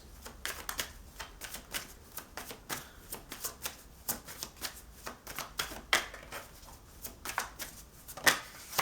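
Cards shuffled by hand for a tarot reading, a long run of quick, dense riffling flicks and slaps at close range, steady and brisk throughout without talk.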